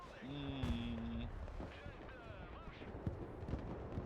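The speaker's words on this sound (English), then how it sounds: "2S trying to fire" 2S self-propelled artillery fires in the war game Broken Arrow with a few faint, distant thumps. Tonal game effects and low rumble surround the shots, and everything plays quietly in the background.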